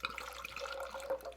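Vodka poured from a bottle into a 1.5 ounce shot glass, a short steady trickle of liquid close by with a faint splashing texture, no talking.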